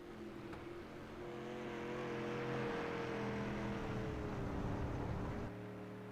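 Stock cars racing on an oval track, a steady engine drone that swells and holds, sustained tonal roar with some higher whine, no voices.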